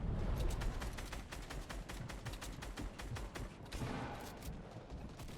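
Rapid, sustained gunfire from a Fortnite match, with dense bursts of shots firing in quick succession throughout, loud and continuous with no talking.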